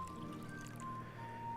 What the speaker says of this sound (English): So we will pour wine in the cauldron.